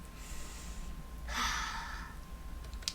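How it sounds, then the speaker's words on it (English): A slow, deep breath drawn in and let out as a sigh, one soft breathy exhale near the middle against a quiet room, with a faint short sound at the end. "Relax by taking a few slow, deep breaths"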